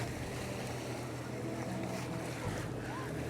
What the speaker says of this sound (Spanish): Estamos en la playa de Rodas